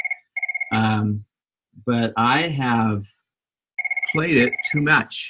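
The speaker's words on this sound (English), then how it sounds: "Sorry for the phone ringing" A telephone rings in short electronic bursts at the start and again near the end, with a person speaking over and between the rings.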